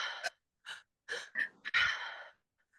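A sharp open-mouthed gasp of air drawn in from the diaphragm, followed by several short breathy inhalations and sighs in uneven bursts with silent gaps, close and moderately loud.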